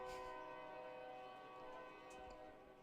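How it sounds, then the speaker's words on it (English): A train passes in the distance beyond a small-town ballpark, a steady low rumble with sustained horn-like tones, faint and continuous throughout. "Got another train coming in the background."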